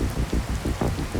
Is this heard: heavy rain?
yes